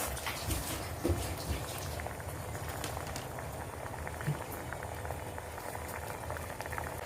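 Palm sugar syrup with bananas bubbles in a pot, a dense, steady close simmer of small popping bubbles with occasional louder blips and no voices.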